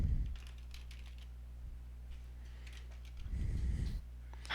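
Clicks and taps from a computer keyboard, a quick run of light keystrokes near the start and more scattered presses later, over a low steady hum in a quiet room.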